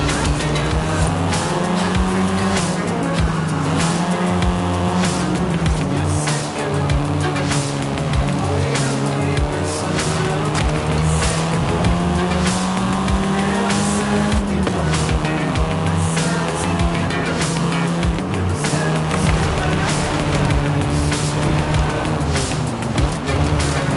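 A car driven in Forza Horizon 5 roars with a sustained engine note that climbs and drops through gear changes, joined by repeated tire squeals and skids. It stays loud and close throughout, with no voices.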